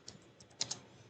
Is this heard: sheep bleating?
no